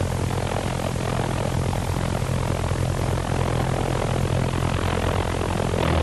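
V1 flying bomb pulse jet engine running at part load on its launch ramp, a loud, continuous, rough buzzing roar that holds steady throughout.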